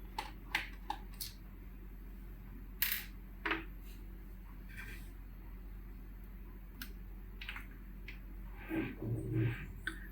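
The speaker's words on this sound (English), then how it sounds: "So I'm just unscrewing the battery from here." Small screws being turned out of the battery inside an ASUS FX503VD laptop, heard as faint scattered clicks and ticks of a screwdriver on metal, spread irregularly over a quiet background with a low hum.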